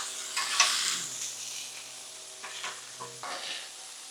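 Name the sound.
shrimp sizzling on a griddle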